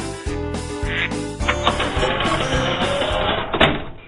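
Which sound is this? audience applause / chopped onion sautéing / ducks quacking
ducks quacking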